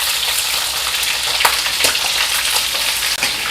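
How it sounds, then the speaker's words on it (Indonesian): Coconut-milk-simmered meat sizzles and crackles in hot oil, a loud continuous frying hiss with scattered pops and spatters throughout. "Nah, ini yang digoreng itu daging bagian santan ya."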